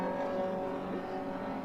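A Ford Cortina races with other pre-1966 to 1983 classic touring cars at Silverstone GP, engines droning steadily with a strong pitched tone that hums continuously at moderate distance.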